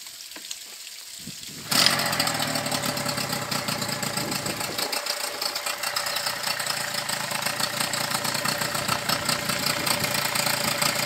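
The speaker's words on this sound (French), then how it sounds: "Et puis je vais le redémarrer comme ça, je vais le tirer sur le ralenti." A Tohatsu outboard motor is pulled back into life after a quiet start, then idles with a steady, loud, slightly uneven knocking putter that runs to the end.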